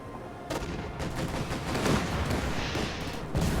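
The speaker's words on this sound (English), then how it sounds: "Sturmovik attack being called in." Bursts of gunfire and explosions ring out for several seconds as a Sturmovik air attack strikes in a World War II tank strategy game, loud and continuous with no talk.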